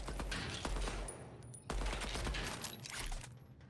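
Rapid automatic gunfire from a heavy-recoil weapon in a video game, dense bursts of cracking shots running almost continuously with a brief pause midway, loud and close.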